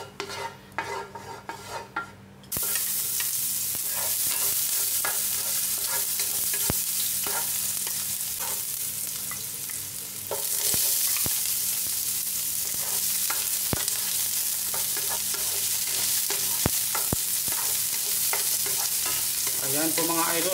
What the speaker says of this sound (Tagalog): Gagamit tayo ulit ng konting mantika para igisa natin ang ating mga sahog.